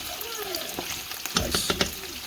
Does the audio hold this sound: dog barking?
no